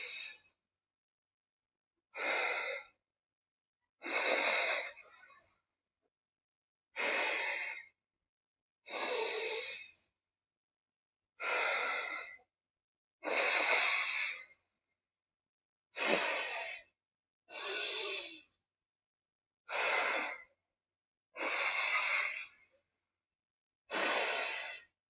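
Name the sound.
yogic alternate nostril breathing, inhaling through left nostril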